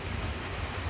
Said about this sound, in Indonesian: hujan yang tiba-tiba datang, dan hujannya ini kelihatannya sangat awet